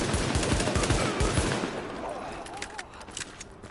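Pistol gunfire from the video game The Division, a dense flurry of rapid shots crackling through the first second and a half, then thinning into scattered fainter pops and game ambience.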